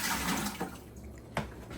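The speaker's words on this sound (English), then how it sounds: "So as you heard that water" Water being poured out of a ball python's enclosure, a soft broadband splashing rush at moderate level with a couple of brief sharper splashes near the middle and end.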